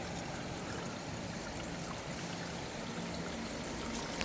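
Water flowing continuously in a steady, full rush close by, unbroken and even for the whole stretch with no voices.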